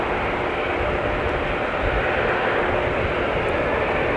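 An Allegiant Airbus A320-200 jet taxis to line up on runway 12 right at Minneapolis–St. Paul Airport during a winter storm, giving a continuous broad engine roar that holds steady throughout, fairly distant and without any voices.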